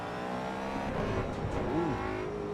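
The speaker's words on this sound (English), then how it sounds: "Mustang sounds good. I mean, definitely sounds better than the LMU sounds." A Ford Mustang race car engine roars steadily in the Assetto Corsa EVO racing game, holding a dense, buzzy drone with a rising and falling pitch sweep near the end of the short burst, with no talking over it.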